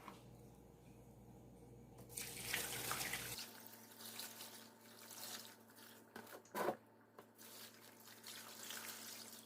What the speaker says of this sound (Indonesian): terakhir kita tuang air cucian berasnya sampai cukup menutup semua permukaan sayur sawinya